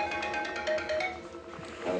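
A mobile phone rings with an incoming call from a friend, a short melodic ringtone repeating its tune, moderately loud with no voices.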